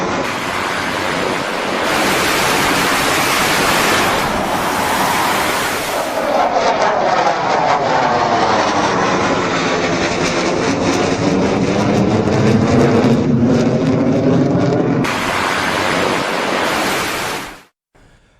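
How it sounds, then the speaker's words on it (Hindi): US military fighter jets roar overhead, a loud sustained rushing blast that rises and sweeps in pitch as an aircraft passes, with shorter bursts of jet noise before and after and an abrupt cut at the end. "अमेरिकी फाइटर जेट्स ने अपनी ताकत दिखाई है, ये देखिए।"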